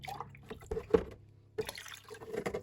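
Liquid plant fertiliser trickles and drips from a bottle into a kitchen measuring cup, with soft splashes and pouring sounds that come in short bursts at close range.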